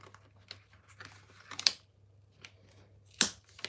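Scissors cutting paper to snip out a paper flower for a scrapbook page, heard as light intermittent snips and rustles with two sharper crisp cuts, close by and quiet.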